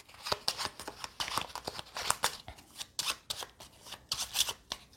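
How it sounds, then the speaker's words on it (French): A discard pile of playing cards being shuffled by hand during a solo CloudAge board game session: close, crisp riffling and snapping in rapid repeated bursts with brief pauses between. "on mélange notre défausse"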